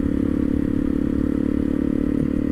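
A 2013 Honda CRF 250 L motorcycle engine idles steadily nearby, a constant low-pitched drone with a faint rattle throughout and no voices.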